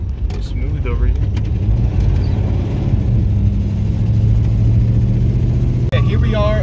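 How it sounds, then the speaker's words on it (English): A Dodge Dart with a rebuilt 904 TorqueFlite automatic transmission runs steadily on the road, its mid-pitched engine droning continuously with a smooth change in tone as it moves into third gear; people talk over the engine noise. "It's shifting really nicely into third gear now."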